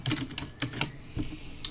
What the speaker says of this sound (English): then I'm going to type, this is the pumpkins page